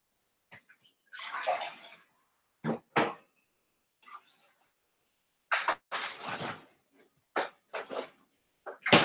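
Water running from a tap in short bursts, broadband and moderately loud, separated by silences and small clunks.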